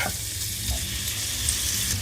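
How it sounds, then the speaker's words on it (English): Sausages frying in a pan, a steady, close hiss of sizzling fat with faint scraping from stirring, continuous and fairly loud with no voices. "while the sausages are cooking"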